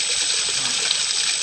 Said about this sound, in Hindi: तो यह अब वो पंप भी चल रहा है।